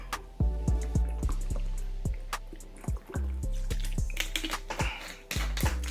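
Someone getting a drink of water, a close series of gulps and liquid sloshes in an uneven rhythm, fairly loud with no talk.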